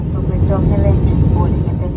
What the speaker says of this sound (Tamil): ஃப்ளைட் இப்போ டேக் ஆஃப் ஆயிடுச்சு